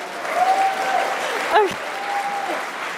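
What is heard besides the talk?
audience applause for a speaker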